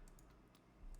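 Batman typing on a computer keyboard: a few quiet, scattered key clicks over a low hum.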